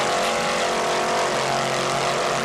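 An offshore racing boat powered by twin 700 hp Roy Dennis engines with Mercury drives at the Jacksonville Grand Prix, a loud sustained engine roar droning steadily with a broad rushing wash.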